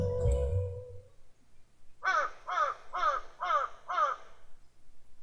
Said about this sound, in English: That bird is mocking me.